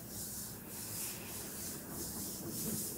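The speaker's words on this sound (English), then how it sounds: "gently rub your palms together, noticing the sensation there" Palms rubbing together during a beginner yoga class, a steady soft brushing hiss that swells and fades in slow repeated strokes, quiet and close with no talk.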